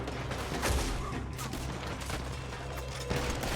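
Rapid scattered gunfire in a Red Dead Redemption 2 shootout, repeated sharp shots and clatter in quick succession over a busy, noisy background.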